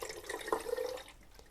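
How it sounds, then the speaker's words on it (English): Hot water at 35 °C, 250 ml, poured from a container into a film developing tank for two-bath developer, giving a short, soft, close splashing trickle that fades out. "Here goes my 250 ml of hot water, 35 centigrade."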